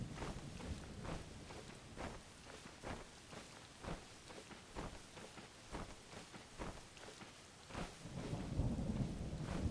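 Stormy weather in the video game Zelda: Tears of the Kingdom, with steady rain and a series of rhythmic low thumps and crackles, the roar swelling louder near the end.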